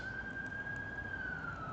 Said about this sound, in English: there's so much ambulance. I don't know where they're going.